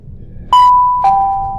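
A doorbell sounds two clear tones, one after the other, each holding on and fading slowly over a quiet room.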